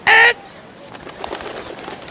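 A bird in the Detective Hayseed Hollywood video game gives one loud, short cooing call up close, followed by a quiet, scattered in-game background.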